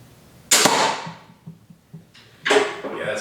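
A cheap Silent Strike pistol crossbow fires a bolt with a sharp snap and twang, followed by faint clicks and a second loud impact or release sound near the end.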